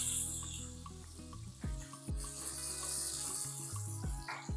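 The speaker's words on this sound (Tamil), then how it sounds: "இந்த பூண்டு இஞ்சி நல்லா வதங்கிடணும் இந்த எண்ணெயிலேயே வதங்கிடணும்" A soft, steady sizzle of garlic and ginger frying in hot oil, with quiet background tones.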